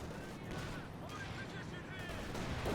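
Artillery barrages called in by a command tank in the strategy game Company of Heroes 2, a dense continuous rumble of distant blasts and crackling fire running under the whole stretch with no clear pauses.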